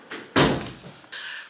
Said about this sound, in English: Are you trying to close the door?